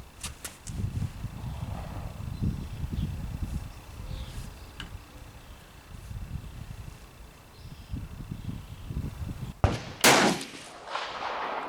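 A Steyr match rifle fires at an outdoor shooting range: one sharp, loud shot cracks near the end, followed by a brief echo, after a stretch of quiet low rumbling ambience.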